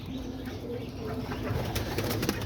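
Homing pigeons coo softly and steadily inside a loft, with faint rustling and occasional flapping of wings in the background.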